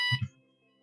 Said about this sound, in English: What's the alarm? Wow, alarm, people.